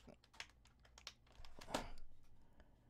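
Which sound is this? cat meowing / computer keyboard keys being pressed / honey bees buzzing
computer keyboard keys being pressed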